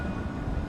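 A tram at a city-centre tram station in Nottingham, heard as a steady low rumble with broadband hum and wind noise, continuous and moderately loud with no distinct events.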